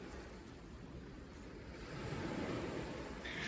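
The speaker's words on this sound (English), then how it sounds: "hear the waves in the background, and connect your breath to the sounds of nature" Ocean waves wash in a steady background rush that swells louder midway, a soft continuous surf with no voices heard.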